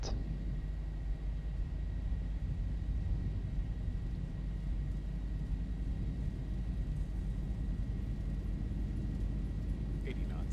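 Boeing 737-800 jet engines at takeoff thrust in the X-Plane 11 simulator make a steady, low rumbling roar with a faint high whine throughout, while a voice speaks over it.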